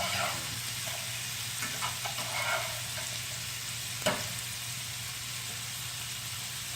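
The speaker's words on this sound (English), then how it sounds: "Ooh, that's bacon." Cheap smoked bacon frying in a pan gives off a steady broadband sizzle and hiss, with faint crackles throughout and one sharp pop near the middle.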